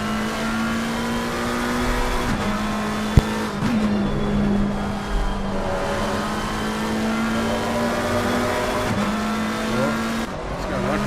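Race cars circling the Hungaroring in the Race On sim, a loud continuous engine drone with rising revs and sharp drops at gear changes, a brief tyre squeal and cars passing close by.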